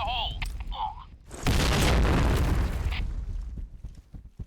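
Blast in the PUBG video game: one heavy boom bursts out about a second and a half in, its rumble sustained and slowly decaying over a few seconds, following a brief stretch of voiced sound.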